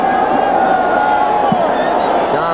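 Sellout football crowd filling Jack Murphy Stadium in San Diego for a 1985 Steelers–Chargers game, a steady loud roar and murmur of thousands throughout, with a commentator's voice running over it.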